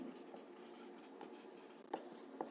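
Chalk or marker scratches across a board in short strokes and taps during a maths lesson, faint and close, with a few sharper clicks near the end.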